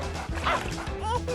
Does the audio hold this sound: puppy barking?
yes